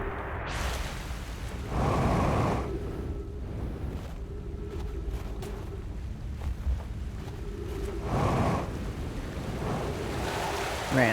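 Water sloshing and lapping in Outer Wilds near the North Pole, a steady wash of waves with bursts of louder surging, heard close against a windy background.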